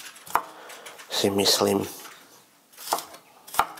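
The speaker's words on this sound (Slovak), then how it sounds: "tak si nakrájame takúto cibulku" A knife chops onion on a cutting board while hot-and-sour soup is prepared: a few sharp, widely spaced chops, with a short stretch of talk between them.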